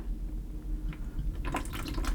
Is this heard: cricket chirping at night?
no